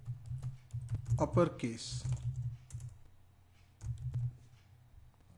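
Typing Java code on a computer keyboard, with a scatter of soft, close key clicks and taps between and under a man's speech.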